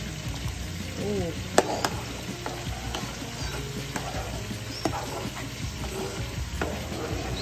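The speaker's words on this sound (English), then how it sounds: "So you want to still like stir it a little bit as it's cooking" Pasta sauce for chicken rasta pasta simmering on low heat in a pan, stirred with soft scraping and clinks over a steady gentle sizzle, with brief voice sounds in the background.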